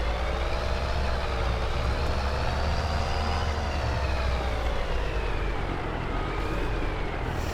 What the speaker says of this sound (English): I do like this truck.